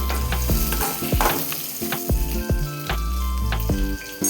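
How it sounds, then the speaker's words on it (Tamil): Onions, green chillies and curry leaves sizzle steadily in hot oil while a utensil scrapes and stirs the pan in repeated short strokes, close up, with no talking. "எண்ணெய் ஹீட் ஆனதும் மங்க வெங்காயம் பச்சை மிளகா கருவேப்பிலை சேர்த்து லைட்டாக வதக்கிக்கலாம்"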